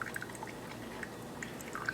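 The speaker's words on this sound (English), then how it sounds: "other than the dripping" Coffee from a Rival single-serve coffee maker drips steadily into a cup while brewing, faint scattered droplet plinks over a low, quiet hum.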